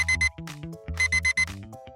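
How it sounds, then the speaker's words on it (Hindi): Alarm clock ringing in rapid bursts of bright, harsh beeping, two groups of quick repeated rings separated by short gaps, with a musical score playing underneath. "बंद हो जाओ अलार्म क्लॉक।"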